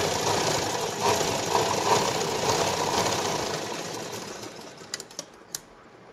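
A sewing machine stitches a katori blouse in a steady, rapid mechanical whir that runs continuously, then slows and breaks into a few separate clicks and taps as the stitching stops.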